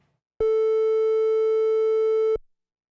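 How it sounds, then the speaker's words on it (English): A Minimoog analog synthesizer sounds a single sustained note A, a steady rich harmonic tone held loud and even for about two seconds, then cut off cleanly. "let's listen to A over here on the Minimoog"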